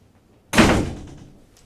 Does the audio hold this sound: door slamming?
yes